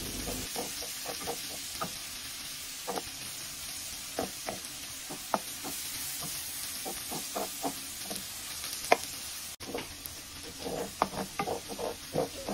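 Garlic sautés in butter with a continuous bright sizzle, while a utensil stirs and scrapes the pan in irregular clicks and knocks, close and steady throughout.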